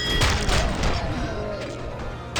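Rapid bursts of gunfire and impacts from a shootout in the video game Robocop Rogue City, set in a bank heist with ED-209 robots and SWAT, loud and dense with crashing thuds throughout.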